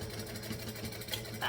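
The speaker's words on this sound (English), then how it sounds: "I'm going to go up to a size 4 stitch length, and I'm going to have all of this face down, and we're going to top stitch along here" A sewing machine runs steadily at a long size 4 stitch length, top stitching along a folded D-ring tab. It makes a continuous close mechanical hum with a faint rhythmic chatter and no talk.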